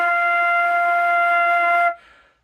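A single sustained flute note F played steadily for about two seconds, clear and close with a bright harmonic tone, then stopping abruptly with a short room decay.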